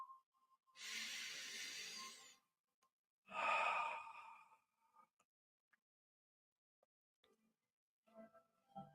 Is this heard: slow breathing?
yes